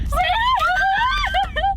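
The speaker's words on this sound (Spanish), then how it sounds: "¿podéis dejar de chillar que me estáis petando los tímpanos?" Girls shriek excitedly at close range, high piercing voices rising and falling over one another in a continuous squealing burst.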